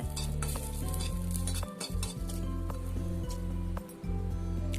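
Peeled garlic cloves sizzle and are stirred in a pan while flaxseed idli podi is being made, a steady close frying hiss with scraping stir strokes and two brief pauses.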